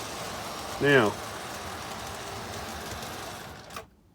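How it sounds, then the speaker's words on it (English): Lionel postwar model train engine running on DC power, a smooth steady motor whir with light track rumble, continuous throughout before cutting off near the end; a brief spoken word is heard early. "that to me is just an amazingly smooth running little engine"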